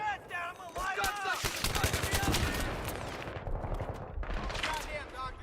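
Automatic gunfire and rapid shots rattle through a Battlefield 3 firefight on PS3, loud and dense bursts mixed with shouted in-game voices and a brief whistling sweep near the start.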